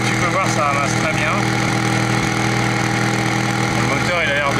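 A Honda HT3813 K1 lawn tractor engine runs at a steady idle, smoking noticeably, a constant close drone heard under a man's speech.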